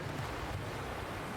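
Steady ocean surf washing continuously in the video game Death Drive, a broad, even roar of waves with a windy hiss, no voices.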